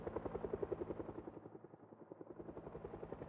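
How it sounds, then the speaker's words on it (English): Helicopter passing overhead at night in the Project Zomboid video game: a steady rotor thump with pulsing blade chop, loud and close, dipping briefly midway, with no talk. "Nighttime helicopter event"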